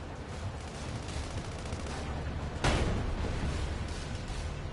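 Sustained gunfire and machine-gun bursts from a tank battle in the Sand Land desert video game, a steady rattling barrage with a sharp louder blast midway, no talking.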